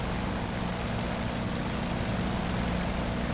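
F4U Corsair propeller aircraft engine in the DCS flight sim, a dense steady low rumble with buzzing prop drone, heard alone.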